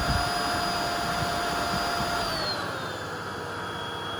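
A Tineco Pure One X cordless vacuum runs steadily on its higher power setting, a loud, close whirring motor with a high whine that dips slightly in pitch partway through.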